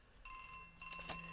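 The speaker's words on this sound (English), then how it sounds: "Okay, that's my phone." A phone rings with a steady electronic tone, faint and slightly distant, as a sustained ringtone with a couple of brief louder pulses, alone without talk.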